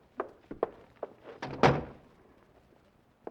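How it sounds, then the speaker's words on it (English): A door is shut in an old-time radio crime drama: a few light knocks and footfalls lead to one solid, fairly close thud that slowly fades into quiet. "Close that door, Grace."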